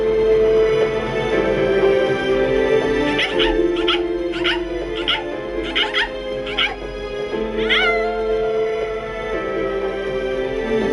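A dog whimpers and yips in the video game Bleach Rebirth of Souls, a series of high, plaintive cries over steady game music, close and fairly loud.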